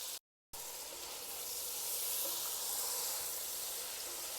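Mushrooms fry in a pan with a soft, continuous sizzling hiss that cuts out briefly near the start and then resumes steadily at a moderate distance, with nobody speaking.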